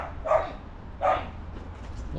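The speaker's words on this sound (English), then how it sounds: "Dog's going mad." Two sharp dog barks sound outdoors in a garden, spaced about a second apart over a low background hum and fairly distant.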